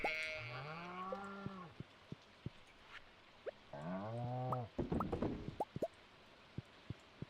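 A cow in the Stardew Valley farming game moos twice in drawn-out, close, clear calls, with small plopping and clicking game sounds scattered between them.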